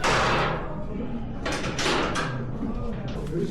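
A heavy door swings open into a stone chamber beneath a pyramid at Giza, with dull thumps and scraping bursts echoing in the enclosed space while a voice talks throughout.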